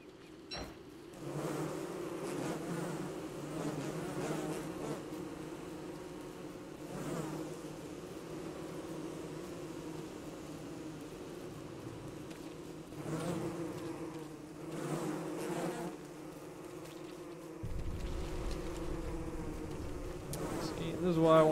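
Bees buzzing in the Don't Starve video game, a continuous droning swarm with pulsing surges, joined near the end by a deeper rumble.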